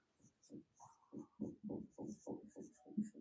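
Chalk or marker scratching on a board in a physics class, a quick series of short rhythmic strokes close by, quiet and without talk.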